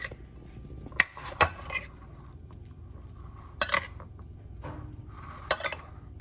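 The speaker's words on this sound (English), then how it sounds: "Ooh, looks like some of that is charred, so let's mix this up with the sauce." Charred air-fried cauliflower tossed with sauce in a bowl: a few sharp clinks and scrapes of utensil against dish at irregular moments, separated by quieter soft stirring and low kitchen background, no talk.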